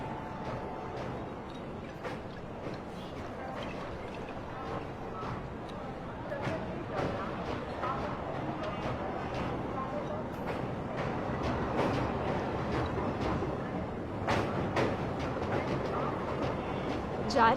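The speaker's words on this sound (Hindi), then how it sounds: "जा रही है लखनऊ की ट्रेन" Train to Lucknow pulling out, a steady rolling rumble with rail clatter throughout, moderately loud and close, with voices talking over it.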